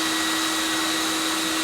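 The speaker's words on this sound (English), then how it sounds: "This is one of the things that I absolutely love about the CECOR Sump Shark is how fast it sucks and does the discharge." A CECOR SD15 Sump Shark vacuum runs with a loud, steady, close whine as it sucks and discharges water.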